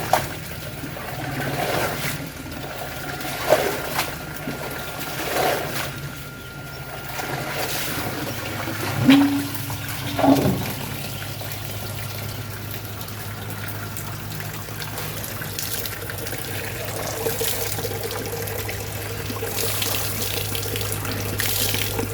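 Clothes are washed by hand in water, with sloshing, splashing and dripping over a steady background hum, with a few louder splashes midway and no talking.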